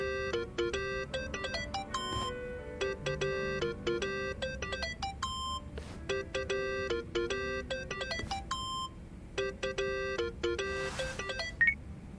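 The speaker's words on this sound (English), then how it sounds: "Think that's your phone, man." A mobile phone rings in the game Yakuza: Like A Dragon, a repeating electronic ringtone of bright melodic beeps in short bursts with brief gaps, fairly quiet over a low background, no voices.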